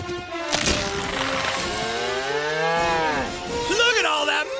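A cow moos loudly and close in a long, drawn-out low call with a rising, wavering tone, followed by a shorter second moo.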